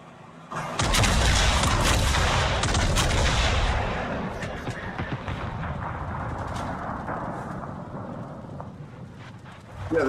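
Heavy naval gunfire from high-explosive shells in World of Warships, a loud dense burst of booming shots and rumbling blasts that thins into a lingering low rumble with scattered distant impacts, then a fresh sharp boom at the end.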